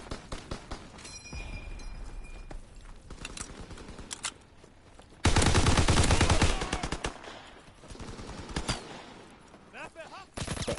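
STG automatic rifle firing in Call of Duty WW2 multiplayer beta: loud rapid bursts of gunfire with clattering, one sustained dense volley midway, other distant shots and game effects around it.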